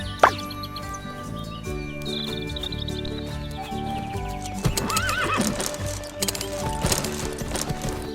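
A horse in the video game Horse Club 2 neighs loudly, then its hooves clip-clop at a gallop over a steady game music bed, with a few bird chirps mixed in.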